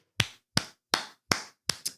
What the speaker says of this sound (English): Give claps where claps are due.